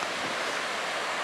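Ocean waves roll in as a steady, broad wash of surf noise, loud and close, with no distinct breaks.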